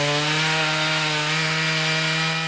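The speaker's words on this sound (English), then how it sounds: "Chainsaws and heavy machinery were out in force on Thursday morning, clearing some significant tree fall in Invercargill's Queen's Park" A chainsaw runs steadily and loudly at close range in a park, cutting up a fallen 100-year-old pine tree after a storm, a continuous strong engine drone with no pause or talk.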